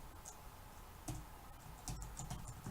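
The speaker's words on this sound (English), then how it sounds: "Sometimes my keyboard just doesn't want to work." Computer keyboard typing in short bursts of clicky keystrokes, close and moderately loud over a steady background hum, with a few heavier key presses standing out.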